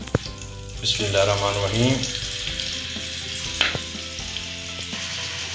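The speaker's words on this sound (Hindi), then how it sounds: "घी गर्म हो गया, अभी इसमें जो है हम दुम्बे का जो गोश्त है वो डाल देते हैं।" Dumba mutton pieces dropped into hot ghee for a restaurant-style Shinwari karahi, a loud, steady sizzle and crackle of frying meat that starts abruptly and runs throughout, with a brief spoken phrase near the start.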